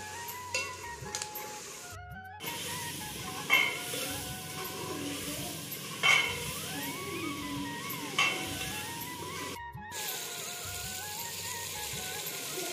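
Salan curry sizzling in oily fat in a pan, a soft continuous frying hiss with occasional louder pops and stirring bursts, plus faint tonal background sounds and brief dropouts.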